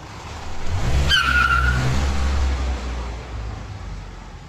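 A car drives along, its low engine rumble steady throughout, with a brief high tire squeal or skid near the start; no voices.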